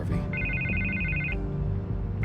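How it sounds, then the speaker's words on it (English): A telephone rings in Batman: The Telltale Series, a steady electronic trill held for about a second, pausing, then starting again, loud over a low game soundtrack. "I can't get the phone to stop ringing."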